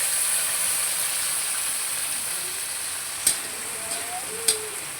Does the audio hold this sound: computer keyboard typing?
no